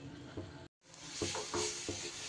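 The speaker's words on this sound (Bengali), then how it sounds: "আরও 3 থেকে 4 মিনিট খুব সুন্দর করে আমি মিষ্টিটা এইভাবে নেড়ে নেড়ে তৈরি করে নিয়েছি" A mango sweet mixture with curd is stirred in a kadai, giving soft scraping and gentle sizzling hiss with a brief silent cut, close and steady.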